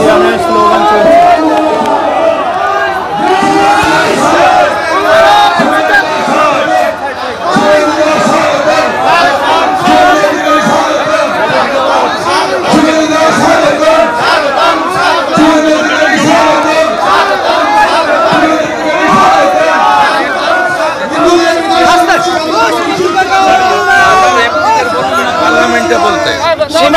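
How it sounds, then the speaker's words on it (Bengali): Large crowd chanting the Jai Shri Ram slogan, a dense continuous roar of massed voices with rhythmic shouts, loud and sustained throughout. "জয় শ্রীরামের স্লোগান চলছে।"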